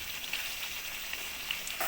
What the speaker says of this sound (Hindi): गोश्त में घी छोड़ दिया है। अब गोश्त भून चुका है।